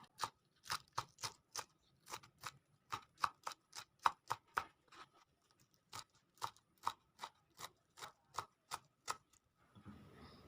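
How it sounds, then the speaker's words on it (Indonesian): A knife chops spring onion and celery on a cutting board in a steady run of about two dozen crisp, close taps, evenly spaced, ending with a brief rustle. "di sini aku juga potong-potong daun bawang"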